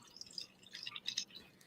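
Liquid poured into a cocktail glass, a short run of light splashing and trickling drips, close and fairly quiet, with no talking.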